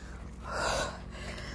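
Someone breathes hard and heavily after carrying sacks of rice, a single drawn-out gasping breath rising and falling over steady background noise, fairly faint.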